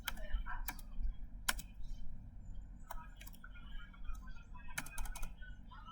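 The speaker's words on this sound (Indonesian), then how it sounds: "kita ketikkan ssh router" Typing on a computer keyboard to enter an SSH command for a Debian router: steady close keystrokes with several sharper clacks, likely the enter key, under a low background hum.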